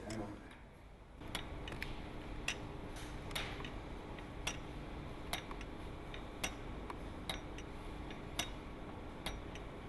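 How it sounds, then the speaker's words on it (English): A restored clock from Brockwell Park, Herne Hill, ticks steadily and evenly at about one beat per second, with sharp, close, fairly faint clicks over a low background hum. "You can hear the timing between the tick and the tock of the clock"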